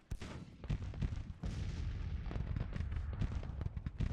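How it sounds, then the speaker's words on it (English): Artillery bombardment in the Grand Tactician strategy game, set in the American Civil War with Confederate guns: a dense, continuous barrage of booming cannon shots and blasts, overlapping rapidly and loud throughout. "I didn't really use the whole bombardment thing so much earlier, but I'm definitely going to do it now."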